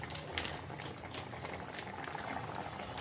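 A pot of curry with chhana kofta bubbles at a soft, steady boil, with small irregular pops and plops over a quiet background and no voices.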